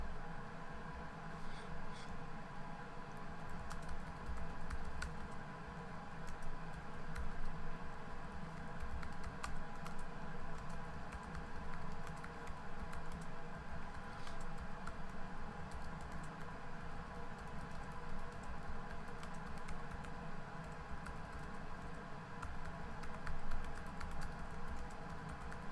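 Steady, continuous typing on a computer keyboard while writing in the WordPress editor, a dense patter of key clicks running at a fairly even rhythm over a constant low hum throughout.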